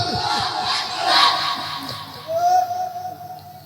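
A large crowd at an Islamic waz sermon gathering in Dhaka roars the Nara-e-Takbir slogan in a loud massed shout, then a second rising chant swells near the end.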